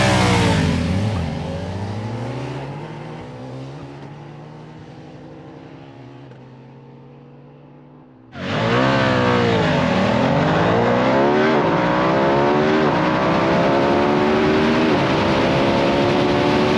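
Triumph Rocket and Ducati Diavel roadster motorcycles race with loud, sustained engine roar, revs rising and falling through gear changes, fading slightly before a sudden louder surge as the bikes come close.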